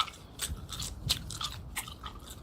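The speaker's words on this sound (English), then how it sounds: "That definitely sounds like I'm chewing gum." Gum chewing in the survival video game Road to Vostok comes through as repeated moist crunchy bites, about five or six, at an uneven rhythm, close up, with no talking.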